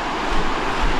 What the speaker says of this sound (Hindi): देखिए यही वो नदी है